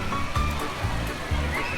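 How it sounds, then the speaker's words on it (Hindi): Spraying fountain water at a nighttime light festival in Southampton, a constant splashing rush with low thumps of water landing, close and loud, with a faint voice and crowd noise mixed in. "पानी के फुहारों ने तो कमाल ही कर दी।"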